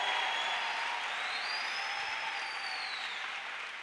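Church congregation applauding steadily together, a dense wash of clapping that fades slightly toward the end, with no talk over it.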